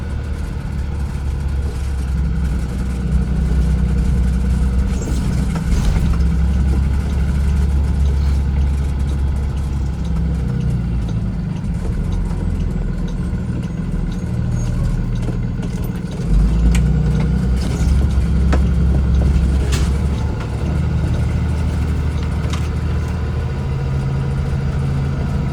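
A car engine hums steadily at a low, even pitch as the vehicle drives and swings right onto a residential street, with slight swells in the engine note partway through.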